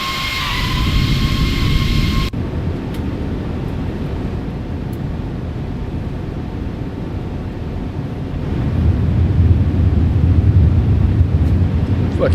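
Airbus A340 jet engines in a flight simulator roar outside the aircraft, a loud steady broadband rush with a brief high whine at first that deepens later.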